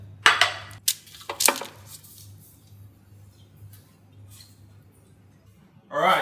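Metal pizza trays being set into a hot home oven, heard as a few sharp clinks and clatters at the start, then a quiet hum. A voice speaks briefly at the end.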